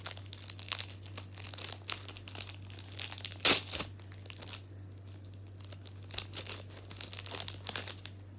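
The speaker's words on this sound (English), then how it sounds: "Today I'm going to be unboxing a pack of Pokemon cards that I got for my birthday." A foil wrapper on a $2 pack of Pokemon cards crinkles and crackles in close, uneven bursts, with one sharper tearing rip midway, over a low steady hum and no talking.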